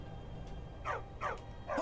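Three short, sharp dog barks from a hound in the Skyrim game world, evenly spaced and fairly close, over a low ambient game hum with no talking.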